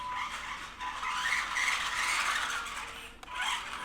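A 1/12-scale SG Pinecone Forest CFMOTO ZFORCE RC car at full throttle in first gear, a steady high-pitched electric motor whine with gritty tire scrabble on gravel, running loud and continuous with a brief dip near the end.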